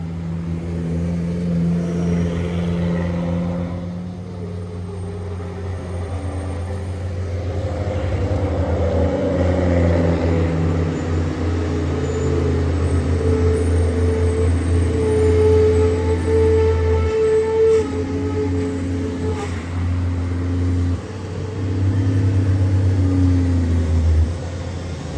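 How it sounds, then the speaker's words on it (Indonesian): A large truck passes on the Sitinjau Lauik mountain road, its deep engine drone rising and holding steady, loud and close for most of the stretch with steady traffic noise around it and no voices. "dari atas ada truk besar satu lagi"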